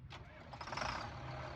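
In the Farming Simulator 19 game, a used farm machine's engine cranks over with a rising rumble and catches into a steady running note. The sound is fairly quiet.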